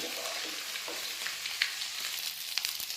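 Ginger garlic paste sizzles steadily in hot oil, a continuous bright frying hiss with a few soft stirring clicks and scrapes from a ladle throughout.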